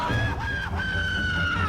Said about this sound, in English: Oh, grown man screaming like a little girl.